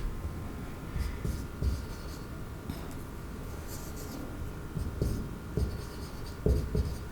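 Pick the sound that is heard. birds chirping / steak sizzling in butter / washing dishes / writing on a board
writing on a board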